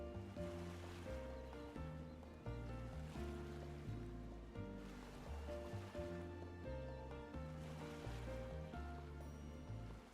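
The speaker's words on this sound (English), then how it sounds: "The ocean is just as lovely in winter" Ocean surf in the Trails through Daybreak II video game, with soft waves swelling and receding every few seconds beneath steady, melodic in-game music.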